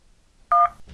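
A cell phone in a flash video game dials a number: one loud, clean dual-tone beep of about a sixth of a second stands out against near silence, with a faint rustle after it.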